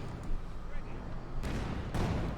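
S-mines go off in the Company of Heroes 2 battle, two sharp broadband blasts over a dense rumbling backdrop of combat noise, loud and close.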